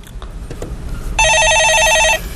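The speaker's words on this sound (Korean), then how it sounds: "전화를 받아보겠습니다." A telephone rings once on a Korean stock-market call-in radio show, a loud trilling electronic burst lasting about a second after quiet studio background.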